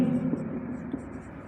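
A pen writes on paper during a maths lesson, a short close scratching stroke sequence, faint and steady, with a quiet voice underneath.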